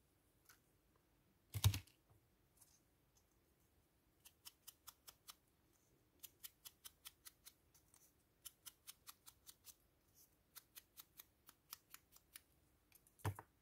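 Scissors snipping paper for junk journal crafting, a quiet series of short, crisp, evenly spaced cuts in a still room, with a louder thump near the start.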